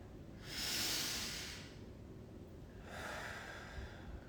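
Slow meditative breathing is heard close and quiet, with one long airy breath followed by a pause and then a second softer breath, with no talking.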